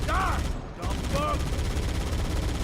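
Rapid gunfire from the Halo video game crackles throughout, loud and steady, with a voice talking over the shots.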